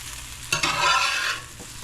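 Okra frying in oil, a low background sizzle that swells into a loud hissing burst as the pieces are stirred, then settles back to a gentle crackle, close and without voices.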